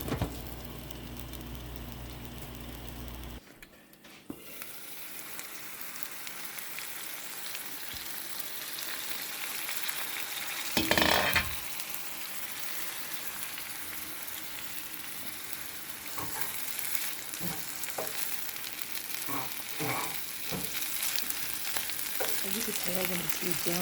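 Chorizo and potatoes frying under a lid in a pan, a steady hiss of sizzling fat that carries throughout, with a brief louder burst partway through and scattered pops and clicks later on; no talking.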